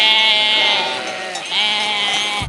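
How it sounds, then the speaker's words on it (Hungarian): Sheep on a mountain road in the Italian Alps bleat in two long, wavering calls, close and clear, with no talk over them. "vagy birkák"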